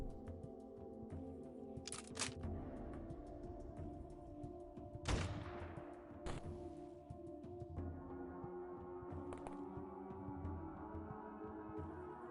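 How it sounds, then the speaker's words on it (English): Gunfire from the X-Com Files video game, with a few sharp shots and bursts cutting through a steady low background hum of game audio, fairly quiet overall. "we can still fire at them"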